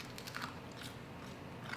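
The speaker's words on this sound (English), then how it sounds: "you got the crunch" Someone bites into crunchy keto pizza crust with a few soft crackling crunches, faint and close, with no voices.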